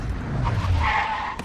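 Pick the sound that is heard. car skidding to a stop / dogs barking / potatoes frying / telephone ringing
car skidding to a stop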